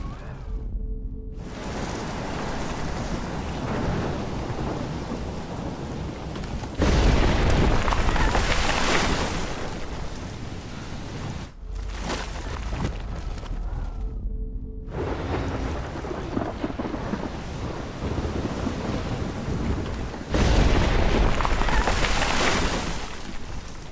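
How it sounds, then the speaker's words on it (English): A heavy thunderstorm in Oregon in the video game Life Is Strange, with dense, steady rain and wind roaring throughout and several loud, booming surges of thunder breaking in between brief quieter gaps. "Storm like this in Oregon."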